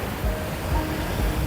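Big ocean waves rolling onto a sandy beach in Puerto Vallarta, a steady low roar of surf with repeated swells surging every half second or so, no voices.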